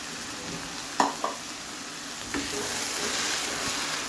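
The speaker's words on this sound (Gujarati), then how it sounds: "ત્યારબાદ આપણે એમાં ટામેટાં અને મલાઈની પેસ્ટ નાખવાની છે." A tomato and cream paste goes into fried onions in a pan for dhaba-style paneer bhurji, giving a soft steady sizzle with a couple of sharp clinks and scrapes from stirring. No one talks.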